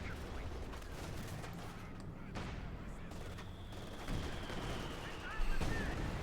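Gunfire and tank cannon shots crackle through a Company of Heroes 2 battle between Wehrmacht and US forces, a dense, moderately distant rattle of small arms with heavier booming hits rising toward the end, under faint voices.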